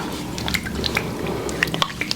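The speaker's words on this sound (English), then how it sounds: "Now I'm just going to wet my hands in the warm water." Hands dipping into warm water, with close, crisp drips and small splashes scattered over a soft wet background.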